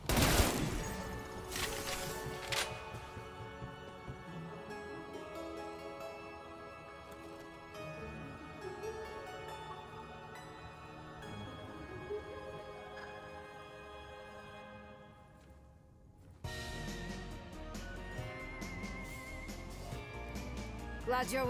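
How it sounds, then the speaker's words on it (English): Halloween event music from Call of Duty Cold War Zombies plays as layered, driving tonal music with sustained notes. It thins out briefly near the end, then comes back at full strength. "the music for this Halloween event is fire"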